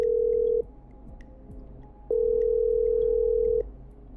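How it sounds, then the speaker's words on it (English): Telephone ringing tone in the video game Killer Frequency, two steady, loud electronic tone bursts separated by a short gap, followed by quiet line hiss. "Okay, I'm dialing."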